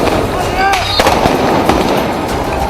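Protesters fire at soldiers on a Beirut street outside the US embassy. Scattered sharp cracks and pops ring out over a dense, noisy crowd with shouting voices, the shots irregular and fairly close.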